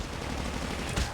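Rapid M16 rifle fire in a battle royale video game, a dense burst of shots throughout a short moment with a slightly louder crack near the end.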